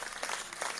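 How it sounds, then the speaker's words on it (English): Dense applause from a crowd, steady and fairly soft, with a few swells in the clapping over a brief stretch. "Round of applause for you."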